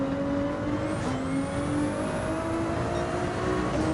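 A Ferrari 296 in Gran Turismo 7 holds a loud, steady engine drone with pitch climbing slowly under acceleration, close and continuous with no talking.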